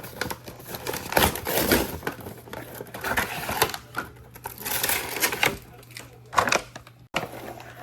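Cardboard packaging of a Lucha Libre wrestling action figure is torn open by hand in a long stretch of crinkling, ripping and rustling, loud and close, with intermittent bursts.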